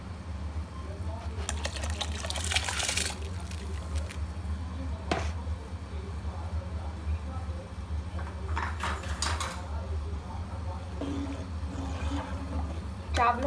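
Rice tipped into a pot of boiling water for restaurant-style Sindhi biryani: a low bubbling simmer with two bursts of pouring and rattling, a sharp clink, and quieter splashes near the end.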